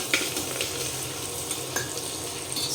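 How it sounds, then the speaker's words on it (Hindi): Onion and masala fry in a pan with a steady, close sizzle, joined now and then by the scrape and clatter of stirring. "तब तक मसाला यहाँ भून रहा है, प्याज इसको अच्छे से हम"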